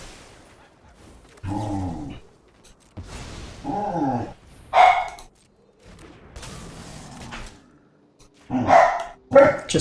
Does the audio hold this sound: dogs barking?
yes